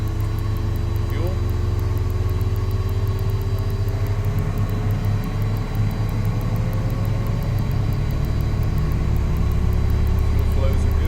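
Airliner jet engine spooling up during start in a flight simulator, a steady rising turbine whine and low drone held continuously over about eleven seconds, loud and constant with faint background tones.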